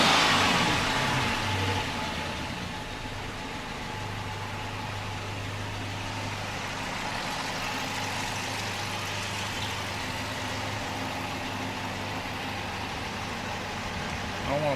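A V8 Dodge Charger engine idles roughly after new coil packs were fitted, giving a steady, lumpy low rumble that runs continuously at close range with no pauses.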